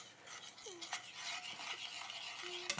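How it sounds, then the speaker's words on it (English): Blueberry sauce being stirred in a pan for wild duck, a soft, steady scraping swirl with faint sizzling beneath and a couple of light utensil clinks, close and fairly quiet, with no talking. "All right, just stir it in really nice"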